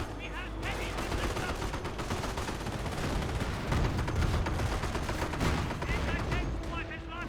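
Gunfire rattles through a Company of Heroes battle between Wehrmacht and US forces, with dense bursts of shots and explosions layered over a busy, continuous din of combat from start to finish.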